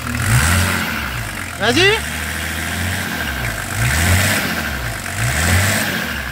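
A car engine revs in repeated swells, rising and falling several times over a steady running hum, while someone speaks briefly over it.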